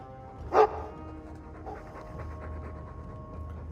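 Mabari war dog panting in the Dragon Age 2 game, a short burst of breathy pants near the start, then fading into low ambient background.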